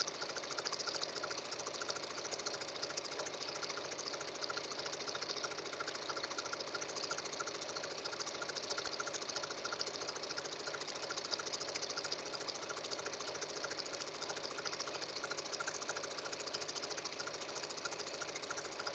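A sewing machine stitches straight seams on a cotton girl's dress sash, running at a steady, fast and even whir for the whole stretch, fairly quiet with no talk.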